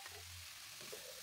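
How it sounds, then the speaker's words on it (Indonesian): Soybean sprouts frying in a pan, a constant loud sizzle with a few soft scrapes of stirring, no voices. "Diaduk-aduk sampai togenya layu"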